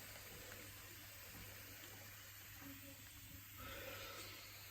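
Water runs steadily from a tap beside a gecko enclosure, a continuous soft hiss and splash with a faint low hum underneath, fairly quiet and unbroken throughout.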